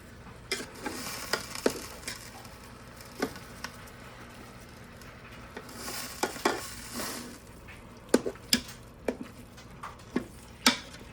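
Beef stir fry sizzling in sesame seed oil, a steady frying hiss broken by repeated clatters and scrapes of stirring against the pan, close and without talk.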